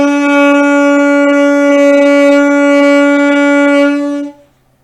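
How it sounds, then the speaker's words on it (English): An alto saxophone holds a single steady B note for about four seconds, clear and close with a rich reedy tone, then fades out, played alone without talk. "try playing a B note and see if you can make yours sound like mine"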